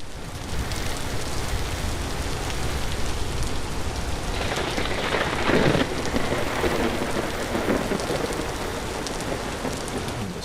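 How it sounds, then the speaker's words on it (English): Steady rain pours in a thunderstorm in the video game Vintage Story, a constant hiss with a low rumble of thunder swelling midway, heard alone at moderate level. "Storm tonight."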